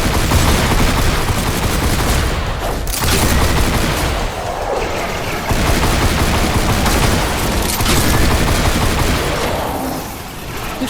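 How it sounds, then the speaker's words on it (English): Shotgun blasts in a Fortnite match, heavy and loud, firing in dense overlapping bursts with brief gaps around three and eight seconds, amid constant battle noise and no talk. "This shotgun is specifically tuned to deal with these big guys."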